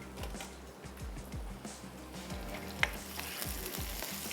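Chopped onion with garlic-ginger paste sautés in a pan, a steady broadband sizzle and crackle with soft stirring scrapes throughout, close and continuous with no talk.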